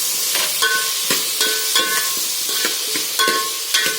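Fenugreek leaves sizzle steadily as they fry in hot oil, with a loud continuous hiss and regular scraping stirs of a spoon against the pan.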